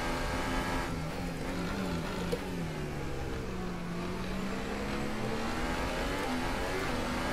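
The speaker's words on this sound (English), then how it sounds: "I came out of the hairpin and just picked up the throttle and spun it around" Simulated Formula 1 car engine from the F1 2018 racing game, revving hard as the car spins out of a hairpin under throttle, a loud continuous whine that dips and climbs again, with no talk over it.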